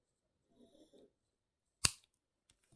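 One sharp snip of cutters trimming the short ends of wrapping wire on a wire-wrap pendant, close and clear, preceded by faint soft handling rustles in an otherwise quiet room.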